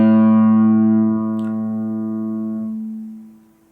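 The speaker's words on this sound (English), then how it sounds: "The A string is the 5th string." Open A string on a guitar plucked once, a sustained harmonic-rich note that rings clearly for a few seconds before fading out, with no talking.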